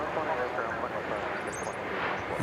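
An arriving Iberia airliner from Madrid at DFW Airport, a steady distant jet roar droning under someone talking throughout.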